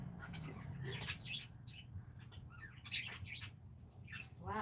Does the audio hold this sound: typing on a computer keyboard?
no